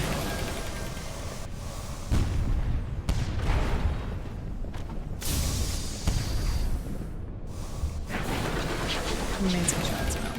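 Ship cannon fire in the game Sunless Skies comes as repeated loud booming blasts in bursts, with dense rumbling bangs across the stretch, heard alongside a voice talking.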